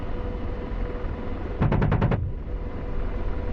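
Apache attack helicopter cannon fire on enemy troops in a combat video game: one rapid burst of about six sharp shots over steady rotor and engine rumble.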